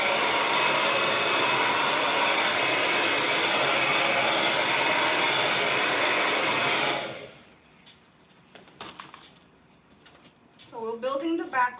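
Steady loud blowing of a hair dryer drying paint on a canvas, a constant broadband whoosh for about seven seconds before switching off, followed by quiet handling noises and a voice speaking.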